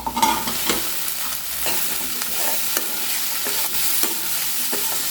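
A spoon stirs boiled plantain with turmeric and spices in a pan, scraping in a steady repeated rhythm over a soft continuous sizzle, close and without talk.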